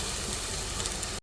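Chopped tomato and ginger frying together in a pan for an egg brain masala, giving a steady, close sizzle that runs unbroken and alone before cutting off sharply at the end.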